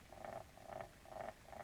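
A laminator sealing a recipe card gives off a faint, rhythmic purring hum in four short repeated pulses, like a cat's purr, with no one talking.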